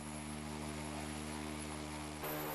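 A Korean-developed tilt-rotor smart unmanned aircraft drones steadily in flight, a continuous tonal engine and rotor hum with a slight rise in brightness near the end.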